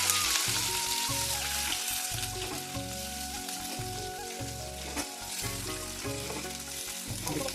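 Chicken fries in a pan with a dense, steady sizzle and crackle, close and fairly loud, mixed with occasional clinks of stirring.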